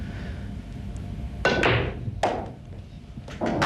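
Pool balls clacking in a professional pool match: a sharp crack of the cue ball striking, followed by further hard knocks as a ball drops into the pocket, with a soft room hum behind.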